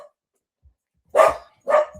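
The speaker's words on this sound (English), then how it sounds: "my doors just went and my dog's going crazy" A young, excitable dog barks twice in quick succession at home after the doorbell goes, the loud, close barks separated by a brief pause with silence before them.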